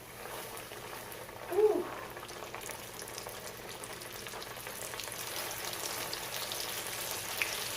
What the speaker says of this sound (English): Never lay the fish or anything into hot oil coming towards you.